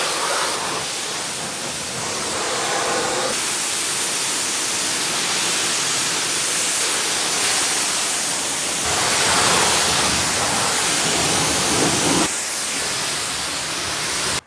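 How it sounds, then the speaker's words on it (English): A power washer sprays a car outdoors, giving a loud, continuous broadband hiss with brief shifts in tone as the spray moves across the surfaces. "I just finished power washing"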